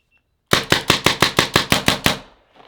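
A paintball gun fires outdoors into a valley, ten sharp, evenly spaced shots in a rapid burst, loud and close, each with a short decaying tail, followed by a faint rustle.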